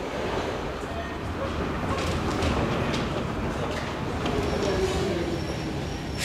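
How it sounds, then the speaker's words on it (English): A Paris metro train rumbles steadily through a station or tunnel, a continuous loud roar with faint rattles and a brief squeal toward the end. "tunnelbanorna i Paris"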